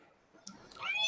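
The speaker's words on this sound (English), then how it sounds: "That would be my cat meowing." A pet cat gives a short, fairly faint meow, close by and alone, rising near the end.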